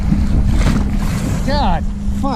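Strong wind and breaking waves on a lake beach form a loud, continuous roar with heavy wind buffeting on the microphone, while a voice cuts in and out over it.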